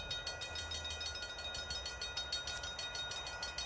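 Hype train alert on a live sports talk stream, a steady rumbling clatter of train noise with a rhythmic clack, moderately quiet and continuous, with no talking.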